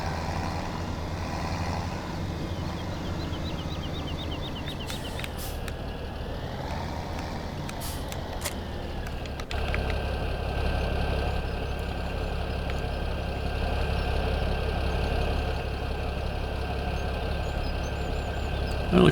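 Tractor engine idling in Farming Simulator 17, a low steady diesel drone that holds through the clip and grows slightly louder and fuller partway in, with no talk over it.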